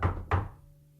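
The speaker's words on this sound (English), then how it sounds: "there was a knock at my door" Two firm knocks on a door, close and distinct, the second following about a third of a second after the first, with a short room decay and no voices.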